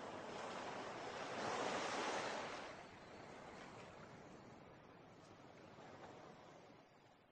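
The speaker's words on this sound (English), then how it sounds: "Listen to the waves." Ocean waves on the shore: a soft wash swells into a broad surge, then recedes into a quieter, continuous rolling hiss with a faint lift near the end, heard alone.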